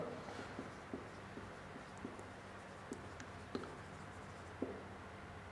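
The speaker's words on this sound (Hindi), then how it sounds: "तो हम लिखते हैं द नंबर" Chalk or marker strokes on a classroom board during a maths lesson, a run of faint, irregular scratches and taps with a few sharper knocks, close and quiet over a low steady room hum.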